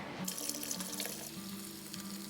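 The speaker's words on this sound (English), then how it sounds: "the last thing you're gonna do is top your bucket off with hot water" Hot water runs from a tap into a bucket of homemade liquid laundry soap, a steady close rushing splash with a low hollow fill tone lasting the whole time.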